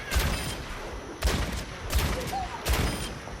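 Four sharp rifle shots from Ash in the Overwatch video game, evenly spaced about a second apart, each a loud crack with a short tail and no talking between them.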